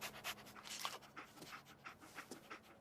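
A dog pants rapidly at close range, quick rhythmic huffs of breath repeating steadily, soft and airy with no other sounds.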